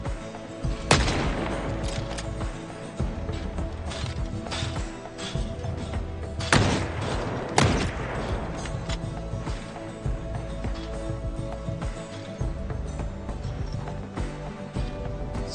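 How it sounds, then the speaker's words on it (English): Gunshots in the zombie survival game Project Zomboid, a few sharp, loud cracks spaced seconds apart over steady game ambience and background music. "So glad that I can shoot through fences now."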